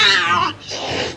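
A human voice imitates an angry cat's evil hiss, a drawn-out, strained yowling hiss in two loud, close bursts with a brief dip between them.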